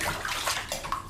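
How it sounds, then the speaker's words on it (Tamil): Water is scooped and poured in a house in Kodaikanal, a close, splashing gush with brief sloshes over about a second. "தண்ணியை மோந்து ஊற்றிக்கிட்டு இருக்கிறானா"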